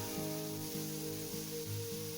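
A steady, dense sizzle of onions and tomatoes frying in a hot pan, continuous and close, with a faint tonal hum running underneath.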